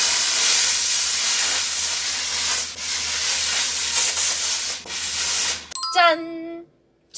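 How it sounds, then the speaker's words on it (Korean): A garment steamer hisses steadily and loudly while steaming a stretched wool knit, a continuous broadband rush lasting several seconds before cutting off, followed by a few brief tonal chimes. "그래서 늘어난 옷이 이 스팀으로 줄어들지 저도 몹시 궁금합니다."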